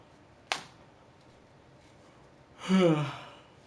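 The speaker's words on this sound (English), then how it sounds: "Just had to yawn real quick." A single yawn rises and falls close to the microphone, breathy and drawn out for about a second, with a sharp click just before it and a quiet room otherwise.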